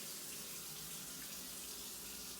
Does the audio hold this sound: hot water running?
yes